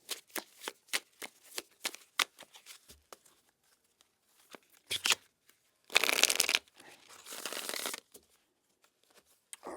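A deck of tarot cards being shuffled by hand: a run of quick crisp riffles and taps, then two longer dense rushing riffles, close and clear, with no talking.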